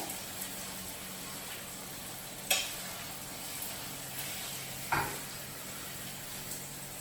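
Steak frying in a pan, a soft continuous sizzle at low level, with two sharp clinks from a utensil or pan partway through and no talking.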